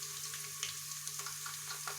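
Chopped onion fries in oil in a pan for Punjabi kadhi pakora, a steady close sizzle with small crackles and no talk.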